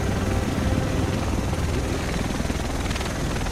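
A helicopter arriving in the video game Tom Clancy's The Division, its rotor drone loud and continuous with a steady thumping throb throughout.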